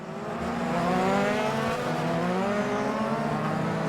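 Euroformula Open race cars at Monza brake hard and shift down through the chicane, a loud, continuous high-pitched engine whine with stepping pitch changes as gears drop.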